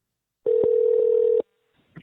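A single steady telephone tone lasts about a second, cut by a faint click, while a call is placed back to a Nobel Prize in Chemistry laureate; a brief murmur follows in otherwise silent surroundings.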